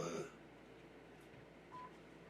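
Telephone keypad tones sound while a caller is conferenced in: a brief burst of dialing at the start, then a faint line hum and one short tone near the end.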